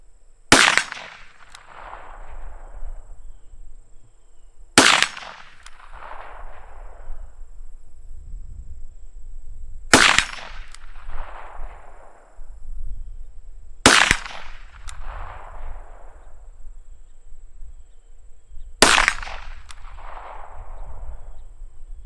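Five .22 Mag revolver shots fired at a long-range target, each a sharp crack followed by a rolling echo, spaced roughly four to five seconds apart, with steady outdoor background noise and no speech.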